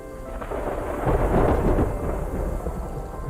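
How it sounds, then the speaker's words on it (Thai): Thunder in the video game Terra Nil, a single deep rolling rumble that swells to a peak midway and slowly fades, with a soft rain-like hiss beneath and no talking. "เสียงฟ้ามาเลย"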